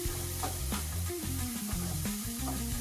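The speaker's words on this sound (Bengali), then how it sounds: "রসুনটা হালকা ভাজা করে নিয়ে দিয়ে দিলাম 2 বড় চামচ পরিমাণ আদা আর কাঁচা লঙ্কা বাটা" Garlic paste frying in oil in a pan for a banana-flower chop gives a steady, close sizzle that holds evenly throughout, with faint stirring scrapes and no voices.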